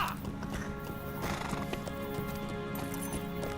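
Horse hooves clip-clop rapidly in the LOTRO game as the mount slides down a steep cliff, a close, steady galloping patter mixed with neighing and game music.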